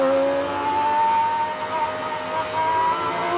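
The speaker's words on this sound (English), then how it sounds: "Enjoying his in-lap as a race winner." Superleague Formula race car cruising on its in-lap at Zolder after winning, a steady engine drone held at moderate level throughout with no voices.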